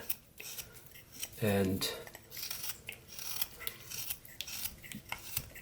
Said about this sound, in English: doing your push cut, and you can see, you're just going to want to go around and maybe round out